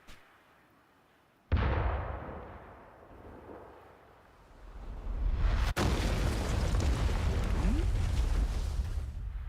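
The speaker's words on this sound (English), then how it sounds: "But firing the cannons was a bit much" Cannons fire in the video game Live A Live: a sudden loud boom at the start and a second sharp blast a few seconds later, each followed by a deep, sustained rumble.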